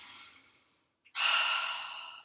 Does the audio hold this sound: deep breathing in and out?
yes